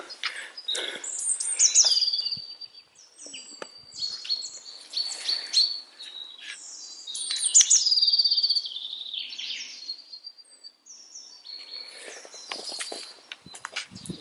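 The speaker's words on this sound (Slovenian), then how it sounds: "Nikoga še nisem srečal, razen ptičjega petja, pa tu pa tam kakšno veverico." Outdoors on a woodland walk, birds sing in bright, high chirping phrases. Two prominent trilling songs ring out close by, with scattered calls and soft rustling between them and no talking.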